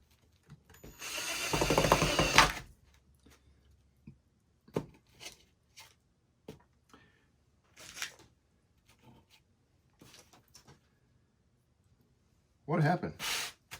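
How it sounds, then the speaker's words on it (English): A screw is driven back into a homemade dollar-store peanut butter bird feeder with a hand tool, giving a loud burst of grinding whir followed by scattered short clicks and taps, with another brief burst near the end. "Now I can put that screw back in."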